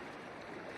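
A brief burst of the Narmada river streaming past at Omkareshwar, a constant close watery hiss without pauses.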